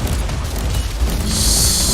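A warp gate explodes in the video game Warhammer 40,000: Inquisitor - Martyr, with a loud, dense rumbling blast that swells into a bright, sustained hiss near the end.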